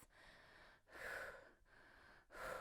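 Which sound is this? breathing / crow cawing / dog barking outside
breathing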